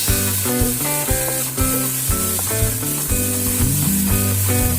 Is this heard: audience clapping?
no